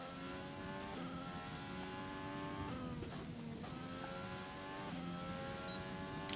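An F1 race car in the F1 2020 game on the Spain circuit screams up through the gears, a high steady engine whine climbing in pitch with quick shift drops, loud and continuous with no talking.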